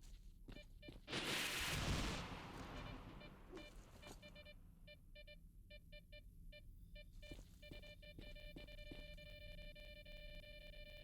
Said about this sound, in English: Pay no attention to the grenades exploding in the background.